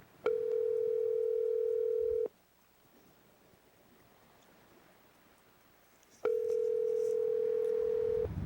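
Steady telephone dial tone hums loud and close for about two seconds, falls silent for four, then returns, while a call to Grandma is placed.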